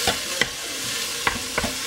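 Ground meat sizzles in a pan while it is pressed flat and stirred for copycat Wendy's chili, with a steady frying hiss broken by a few sharp scraping clicks of the utensil.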